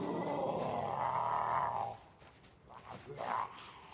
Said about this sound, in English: I just heard something growl outside.